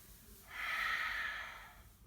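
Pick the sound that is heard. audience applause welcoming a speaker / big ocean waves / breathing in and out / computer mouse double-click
breathing in and out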